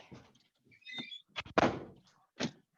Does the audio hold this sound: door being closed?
yes